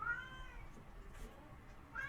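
A pet cat meows faintly in a quiet room, with a soft rising call at the start and another at the end, distant and low against background hiss.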